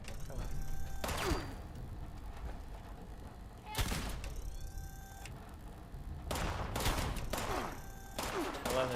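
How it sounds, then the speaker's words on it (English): Enemies fire through a wall in Fallout 76 during an expedition to the Pitt. Bursts of gunfire crack out at intervals, with loud volleys and mechanical clatter over a constant rumbling background. "I love that they're shooting through the wall."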